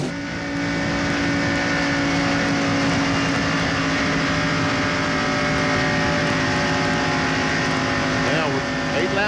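At Daytona International Speedway, 1995 NASCAR Winston Cup stock cars roar around the track in the Pepsi 400, a dense and continuous engine howl that stays loud throughout while a commentator talks over it.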